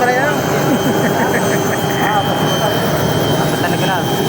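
A Robinson R66 helicopter landing at Jomalig produces a steady, loud, broadband engine and rotor roar that persists throughout. Voices chat over it.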